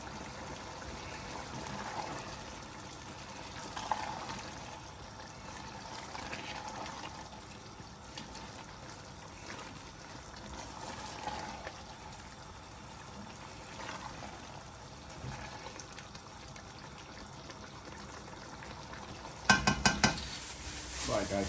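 Chicken sizzles over a medium-high flame in a pan for a gluten-free chicken biryani. A steady soft hiss is broken by occasional stirring clinks, and a clatter of utensils comes near the end.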